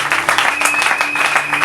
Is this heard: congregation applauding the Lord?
yes